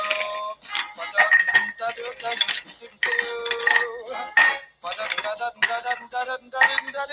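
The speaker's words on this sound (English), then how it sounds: "Put a little ice in the glass." Ice cubes clink and rattle into a glass for a Ritz Old Fashioned cocktail, with repeated bright, close chinks in uneven bursts.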